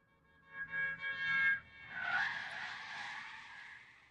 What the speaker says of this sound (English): I'm going to put car skid